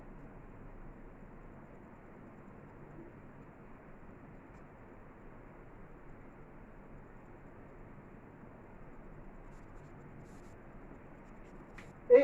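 A pen scratches steadily across paper, writing Arabic calligraphy letters in the Ruq'ah script. The faint, continuous scratching goes on without a break, alone and close, and a brief louder knock comes at the very end.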